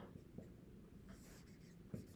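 Pen scratching across paper while a physics force diagram is sketched, a steady close dry scraping with a couple of sharper taps as strokes begin and end.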